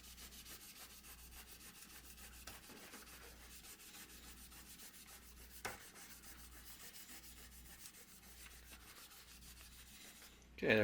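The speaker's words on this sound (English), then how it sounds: "Cleans up a fretboard, and the fret's all nice and shiny." A guitar fretboard and frets are rubbed clean with a cleaning product in a steady, quiet, continuous scrubbing. It is close and low in level, with a couple of small knocks and a brief louder rustle at the very end.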